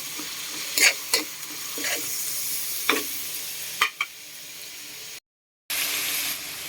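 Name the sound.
tomatoes added to pork sizzling in a pan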